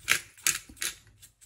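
A pepper mill grinds pepper over a salmon dish in three or four short, sharp gritty bursts, close and fairly loud, with no talk.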